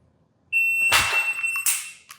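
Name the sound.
shot timer beep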